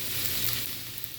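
Bacon and sauerkraut fry in a very hot pan, giving a steady close sizzle and crackle with soft stirring underneath and no voices.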